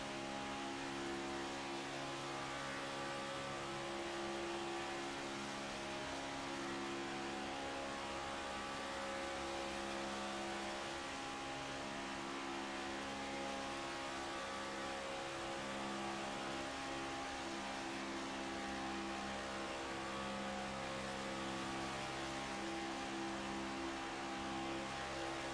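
A race car engine drones loud and unbroken in a racing video game at Talladega, holding a steady high rev with slight pitch shifts, and no one talks.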